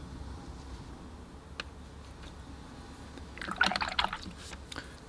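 Paint rinse water being changed in a water bucket: a quiet room with faint clicks, then a brief gurgling, splashing pour of liquid that rises and fades over a second or so.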